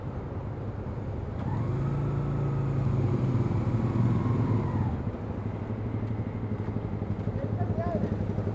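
Heavy Tokyo road traffic in a jam: a steady, close rumble of car and motorcycle engines, with an engine swelling and revving through the middle before settling back to a low idling drone, and voices murmuring over it.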